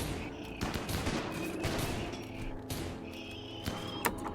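Gunfire in the video game RimWorld crackles in dense overlapping bursts and sharp single shots, loud and continuous against layered game sounds.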